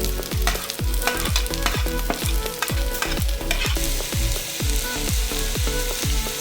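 Onions, garlic and green chillies fry in a pan for a squid thoran, with steady sizzling under regular, rhythmic stirring scrapes, close and fairly loud throughout.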